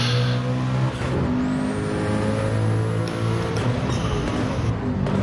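Loud, continuous Group C race car engine from Gran Turismo 7, a sustained harmonic drone that rises and falls with throttle changes through a corner, with a faint high whine above it.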